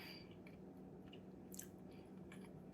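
Close, quiet bites and moist chewing on a crunchy-topped homemade cinnamon roll with orange and cinnamon, soft crackly crunches scattered over a few seconds.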